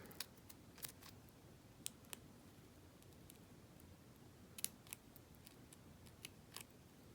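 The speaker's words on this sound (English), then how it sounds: "I'm just cutting into the edge of the leaf, sort of pointing downwards a little bit towards the bottom of the leaf" Scissors snip into the edge of a crepe paper rose leaf, making small, faint, scattered clicks and cuts that come at irregular intervals against a quiet background.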